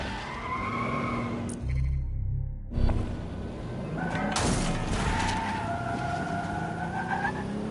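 Tires squeal and skid as a car drives in Watch Dogs: Legion, the engine droning steadily, with a sharp impact partway through and long screeching slides afterward.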